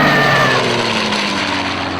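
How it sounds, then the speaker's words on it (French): A propeller airplane dives low over the rooftops of a town square in Casablanca, a loud, continuous droning engine roar with a steady hum throughout, heard alone as a radio drama effect. "L'avion était au ras des toitures, piqué plus bas. On apercevait l'éclat fulgurant de l'hélice."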